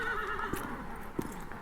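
A horse whinnies over a steady background bed, with a couple of brief hoof-like knocks standing out near the middle and toward the end.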